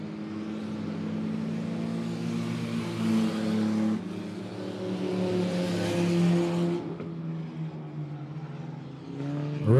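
Late model stock cars racing at Monett Motor Speedway, a dense roar of several engines with rising and falling pitch as the field circles the track, loud and continuous before dropping off near the end.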